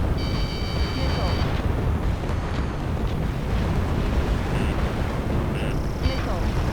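Missile launches and explosions roar through an Ace Combat 7 dogfight, a continuous loud rumbling wash of jet and blast noise with beeping alert tones layered on top.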